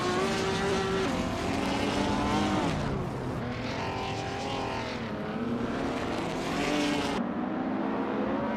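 A 1958 Maserati 250F race car with a 3.5-liter engine screams through a racing video game, loud and continuous, its pitch climbing and dropping through repeated gear changes.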